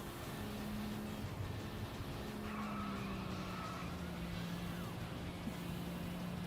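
A car in a video game driving fast and skidding: continuous engine drone with rising tire squeals and sliding screeches, loud and steady, no voices.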